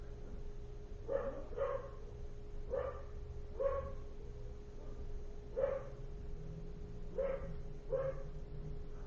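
A dog named Stanley barks from an upstairs room, about eight distinct muffled barks in uneven pairs, moderately distant, over a steady low hum.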